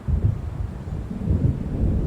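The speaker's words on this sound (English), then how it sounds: "It seems there's a storm coming." Thunderstorm in the video game Alan Wake Remastered, a deep rolling rumble of distant thunder with low gusty wind noise, continuous and fairly loud without speech.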